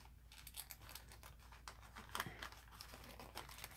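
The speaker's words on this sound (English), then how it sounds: "I'm just going to cut it open here." Paper being cut open with scissors during an art journaling session, a steady run of crisp crinkling and snipping close by, with one sharper cut partway through and no talk.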